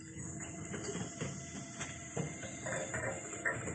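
An XJ-769 machine being adjusted gives a steady, moderately loud mechanical hum with faint clicks and small knocks scattered through it, close by and continuous, with no voices.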